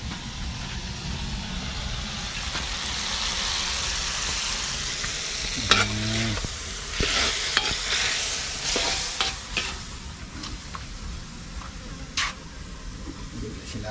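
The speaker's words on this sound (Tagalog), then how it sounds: "Igisa na." Food sizzling and frying in a pan while being stirred, with a steady broad hiss throughout and scattered clinks and scrapes of a utensil against the pan, over a faint engine-like hum in the background.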